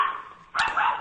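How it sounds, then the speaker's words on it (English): Small dogs Baxter and Bentley squabbling, a short high yip followed by a sharp close bark and whimpering growl in quick succession. "A little dog fight out here."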